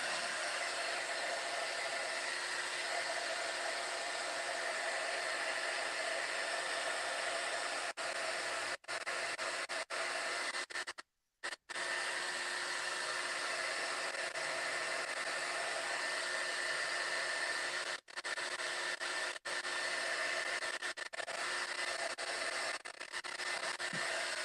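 A hair dryer blows steadily on a drying craft piece, a loud, continuous broadband whoosh that cuts out for a moment midway and briefly dips a few other times before running on.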